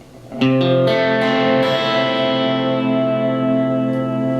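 A guitar chord rooted on the A string strummed once with effects and distortion, ringing out and sustaining with a chorus-like shimmer, close and loud.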